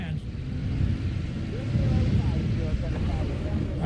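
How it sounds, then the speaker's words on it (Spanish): A tank moving into a mined zone in the Vietnam War, a steady loud engine rumble with grinding mechanical noise throughout, close and continuous. "El primer tanque comienza a adentrarse."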